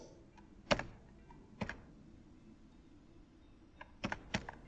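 Keys clicked on a computer keyboard while playing Geometry Dash, a few sharp close taps in small clusters, two or three quick clicks at a time separated by quiet gaps.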